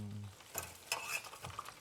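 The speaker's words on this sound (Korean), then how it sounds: "두 번 튀겨야 맛있거든요" Food deep-frying in hot oil for a second time, a soft sizzle with brief stirring and bubbling bursts, faint and close, no talk.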